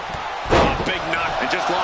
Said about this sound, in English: Oh, what a counter into the power slam.